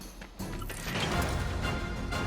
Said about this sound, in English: Smashing boxes is what I'm supposed to be good at.